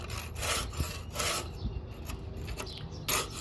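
A scraper rasps blistered paint and rust off old metal in repeated close strokes, several gritty pulls with short pauses between them and no talking.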